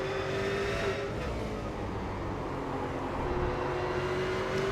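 Race cars at Oran Park circuit, engines droning steadily with a sustained tonal whine that rises and falls as cars pass, continuous and fairly loud throughout with no talking.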